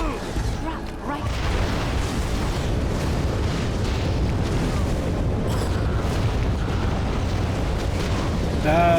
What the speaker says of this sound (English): That's a lot of fire traps.